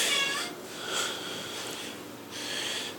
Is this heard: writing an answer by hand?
no